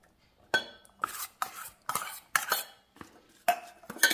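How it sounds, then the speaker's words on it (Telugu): A spoon clinks and scrapes against a bowl while chopped onion, cucumber and coriander are stirred together, giving a series of sharp, close metallic knocks at an uneven rhythm with no talking. "సో అన్నీ మిక్స్ చేస్తున్నాను."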